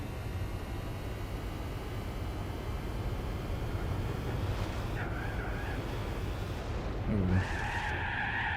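A car in Gran Turismo 4, driven without brakes or handbrake, drifts with a steady low engine roar. Two sharp tyre squeals cut in near the end, the second louder and longer.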